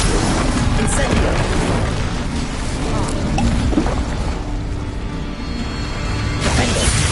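An Incendio fire spell bursts in Hogwarts Legacy on PS5, a loud sustained rumbling roar of flames and booming impacts filling the whole stretch, dense and close with no clear pauses.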